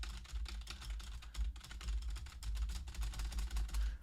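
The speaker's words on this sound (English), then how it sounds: "in the game they just made it like a typewriter" A typewriter clatter serving as I.R.S.'s entrance music in a WrestleMania Steel Cage game: rapid, irregular key strikes in quick bursts with a low thumping underneath, fairly quiet and without voices.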